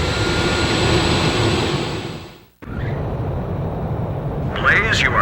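A fighter jet roars on the runway during takeoff in Ace Combat 5, a loud continuous engine rush that cuts out briefly and then resumes, with a radio voice talking over it.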